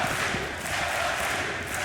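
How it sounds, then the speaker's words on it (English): Arena crowd at a DreamHack Masters Malmö Counter-Strike match, a dense roar of cheering and yelling that holds steady and loud all the way through. "And the crowd is back"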